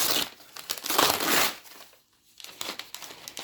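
Packing tape and plastic wrapping are torn and crinkled off books by hand, with close, bursty rustling and ripping, a brief pause near the middle, then more crinkling.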